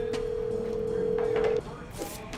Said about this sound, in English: we will leave you tonight with the best of the draft room phone calls in 2024